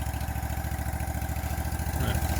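A Steiner 430 tractor idles in a steady, low, rapidly pulsing rumble, close and continuous, with no talking.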